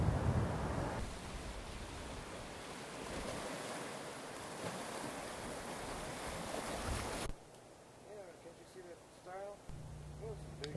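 Surf on the lagoon shore of Katiu island in the Tuamotus, a steady broad wash of breaking waves with wind buffeting the microphone, then quieter water lapping as birds call faintly nearby.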